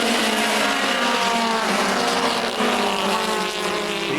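Race cars hustling around a short racetrack at about 82 mph average, a loud, close, continuous roar of engines with overlapping revving tones as the cars pass.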